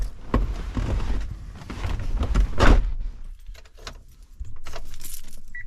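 A bunch of keys jangling and clinking up close, in several bursts with handling noise, then a quieter stretch and more rattling.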